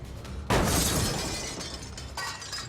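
A reinforced glass door shattering under a kick in a visual novel game, a loud sudden crash followed by a long scatter of tinkling shards and a second smaller burst of breakage.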